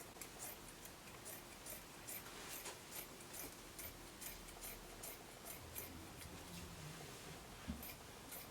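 Scissors snipping through fabric while cutting out a kaftan pattern, a quiet, close series of rapid crisp clicks in an uneven rhythm, without voices.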